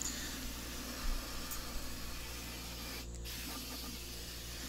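Compressed air blasting dust out of the sheaves of a Shopsmith, a continuous loud hiss that runs the whole time with one brief gap midway.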